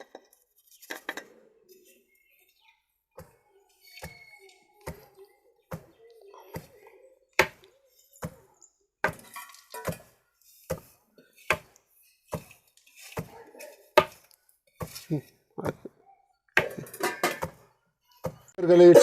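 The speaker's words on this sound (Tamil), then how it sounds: "வேர்க்கடலை இடிச்சாச்சா, வேர்க்கடலையும் வெல்லமும் இடிச்சாச்சு" Roasted peanuts and jaggery are pounded in a mortar with a pestle, giving sharp, irregular thuds that come faster and louder toward the end, with occasional clinks between strikes.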